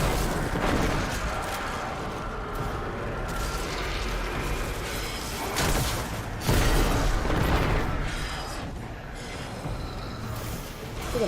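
Rocket explosions in the video game Destiny 2, a dense run of heavy booms and blasts rolling over continuous loud combat noise, with a stronger burst near the middle.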